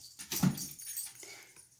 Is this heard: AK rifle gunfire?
no